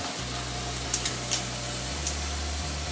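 Bacon frying in a pan, a soft continuous sizzle with a low steady hum beneath and a few faint crackles and pops, no talking.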